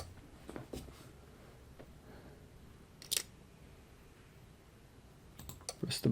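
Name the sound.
mouse clicking on a glitched frame in a video game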